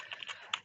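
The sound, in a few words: typing on a computer keyboard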